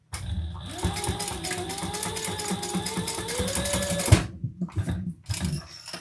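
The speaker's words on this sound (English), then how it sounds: "I'm going to do another row of stitches right there and not use a rivet" A sewing machine runs a steady row of stitches for about four seconds with a fast, even mechanical whir, then stops and gives a couple of short bursts.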